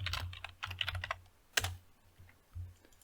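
Fingers type on a computer keyboard at a terminal, clicking in quick irregular bursts with brief pauses between keystroke clusters, close and fairly clear.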